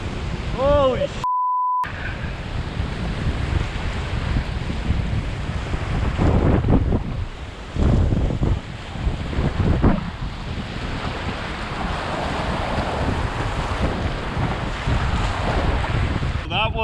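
Canoe running class 2 whitewater rapids with big waves and a large hole, a steady loud rush of churning water and wind buffeting close to the microphone, surging heavier midway, with a brief voice near the start.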